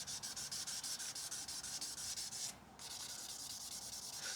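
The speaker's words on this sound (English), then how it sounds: "what I'm going to do is start with 2000 grit this time" Fine 2000-grit sandpaper rubs steadily back and forth over lacquered plastic car trim, a close, even scratching rhythm of quick strokes with a brief pause near the end before the rubbing resumes.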